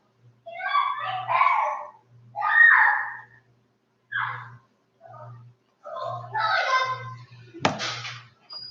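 Children shouting and screaming at home in several loud, excited bursts with short pauses between, close by, ending in a sharp high shriek over a steady low hum.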